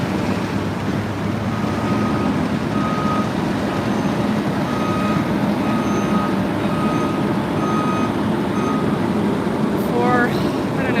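A trash truck reverses on a Denver street, its backup alarm sounding a steady run of evenly spaced beeps over loud, continuous engine rumble and traffic noise.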